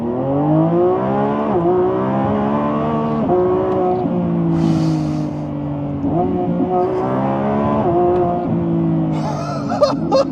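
A car with a dual-clutch gearbox pulls hard at full throttle, its engine note climbing steadily through quick, smooth upshifts, loud and close, with a short voice cutting in near the end.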